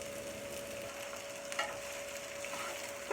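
Onions frying in a pan on an Aga cooker for stovies, a steady close sizzle with a faint hum and a brief scrape of stirring partway through, no voices.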